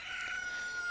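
A flock of cuckoos from Majora's Mask crows in game audio, a steady bright fowl-like cackling with one sharp high squawk near the start, fairly faint throughout.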